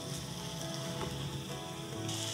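Tomatoes and spice paste sizzle in a pan while being sautéed for a Marathi dish, a steady, close hiss and crackle that runs unbroken throughout.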